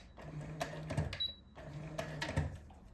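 A sewing machine stitches a pencil skirt waistband with a back tack, two short bursts of rapid mechanical whirring and clicking separated by a pause, close but quiet.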